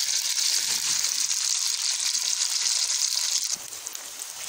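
Onions fry in about half a cup of oil in a pot, making a steady, close, hissing sizzle that runs without a break and eases slightly near the end, with no voices over it.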